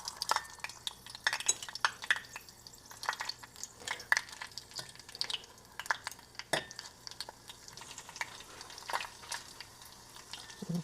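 A dish cooking in a pan, with irregular clinks and scrapes of a utensil stirring against metal over a faint sizzle, nearby and without talk.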